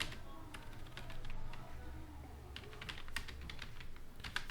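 Rapid clicking keystrokes on a computer keyboard while text is entered into a watermark field in MS Word, steady and close with a soft low background hum.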